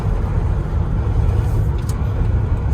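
A second-generation Dodge with a 318 V8 driven through a manual gearbox, heard from inside as a steady, loud low engine drone and road rumble without gear-change breaks.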